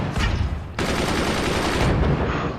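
Rapid bursts of weapon fire in the Forts video game, a dense crackling barrage that jumps louder partway through and rolls on continuously, with no talking.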